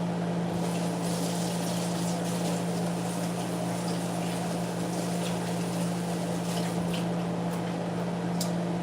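Water runs steadily from a tap while hands are washed, a continuous close hiss over a low mechanical hum with a few faint clinks and splashes.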